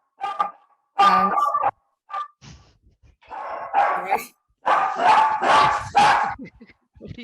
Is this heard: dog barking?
yes